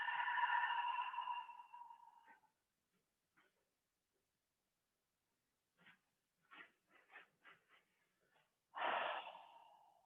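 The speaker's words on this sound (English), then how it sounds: "begin the sacred cleansing breath in through the nose. Hot, audible exhale through the mouth." A person does a cleansing breath during a qigong session, drawing a long steady inhale through the nose and letting out a hot, audible exhale through the mouth. The breaths are close and loud, with a few soft clicks and sniffs in between.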